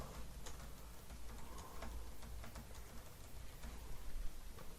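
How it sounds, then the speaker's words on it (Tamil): Example text typed on a computer keyboard, a steady run of quick, light key clicks with irregular rhythm, close and fairly quiet over a faint room hiss. "சும்மா ஒரு எக்ஸாம்பிள் டெக்ஸ்ட்டுக்காக நான் டைப் பண்றேன்."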